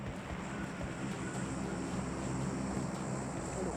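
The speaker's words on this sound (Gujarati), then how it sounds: "ઉપરથી પ્લેન જતું હતું" An airplane passes overhead in the video game BGMI, heard as a quiet, steady engine drone that holds constant throughout.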